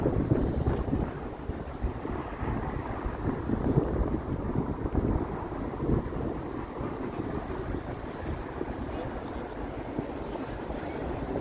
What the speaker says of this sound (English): Walking in this direction, the wind is really coming at me here.